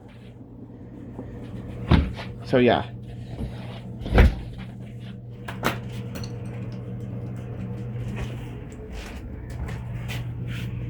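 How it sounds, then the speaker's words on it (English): The sticky back door of a house is wrenched open with a few sharp scraping thumps and a squeal, close by over a steady low hum, and a voice speaks briefly. "This door is very sticky, but this is the back door."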